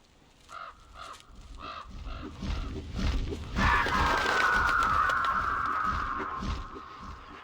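Rough bird caws, a vulture calling, repeated in short bursts over the first few seconds, followed by a louder sustained screechy sound, fairly close.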